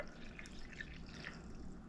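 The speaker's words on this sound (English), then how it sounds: "as we pour it into our cup" Coffee pours into a cup in a faint, steady liquid trickle with light dripping, quiet and close, with no voices.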